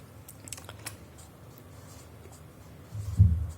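Teacher writing out maths working by hand, faint scratchy pen or chalk strokes across a quiet room, ending in a louder dull knock or tap near the end; no talk.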